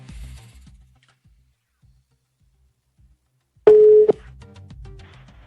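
A telephone call goes unanswered on the line, marked by a single short, loud, steady tone that breaks a near silence, with faint background murmur before and after.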